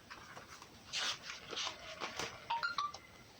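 A phone gives a short message notification: a quick run of bright electronic tones near the end, after soft rustling and handling noises indoors.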